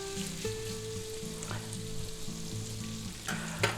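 Shrimp and roasted pork sizzle in a frying pan for fried rice, a steady close crackling fry with a few stirring scrapes and clinks, with a low hum running underneath and no talk.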